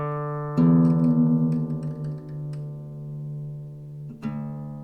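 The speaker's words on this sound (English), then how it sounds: "So you want to drop that E string to D tuning" The low E string of an acoustic guitar, detuned down to drop D, is plucked and rings out alone with a sustained, slowly decaying tone, then is struck again near the end.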